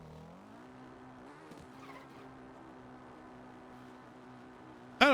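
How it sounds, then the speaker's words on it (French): A motorcycle engine in The Legend of Zelda: Breath of the Wild hums in a steady tonal drone that rises briefly, then holds, fairly faint, ending with a sudden louder burst at the very end. "Même le bruit de la moto, je trouve qu'elle est un peu..."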